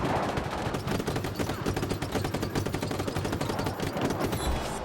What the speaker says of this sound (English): Just shooting the police guys.